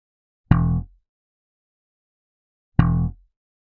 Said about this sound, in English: Here's the sound of a low E string coming straight from the bass.